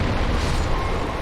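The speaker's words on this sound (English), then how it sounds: "that explosion sucks so much" A boss's explosion attack in Dark Souls, with two blasts going off at once, makes a dense, loud, roaring rumble that fills the whole short moment without a break.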